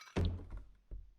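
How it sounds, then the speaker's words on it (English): A sudden thud followed by a smaller knock comes from a kitchen in the video game Cabin Fever, two quick, dull impacts, close and fairly quiet, with no voices. "Then came a sudden clatter and thud from the kitchen."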